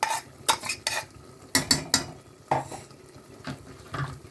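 Spoon stirring ground green masala into chicken in a pan, a series of sharp scraping clinks against the metal in irregular strokes, close, with faint sizzling underneath.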